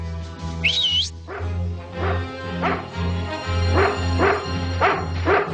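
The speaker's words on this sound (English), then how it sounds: "That's my dog, Order. He's trained to sniff out explosives" A dog barks repeatedly at a steady pace, several sharp woofs close by, after a short rising whistle-like sound at the start.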